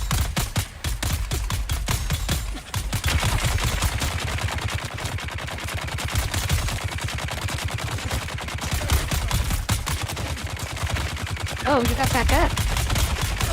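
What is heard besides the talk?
two machine guns firing at once in the video game Dune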